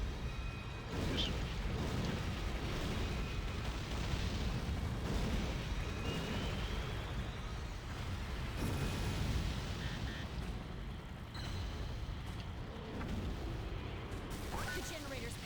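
A generator blowing up in the Godzilla video game on PS3, heard as heavy, booming blasts and crashing debris that rumble on for several seconds, loud and close, with voices speaking in places.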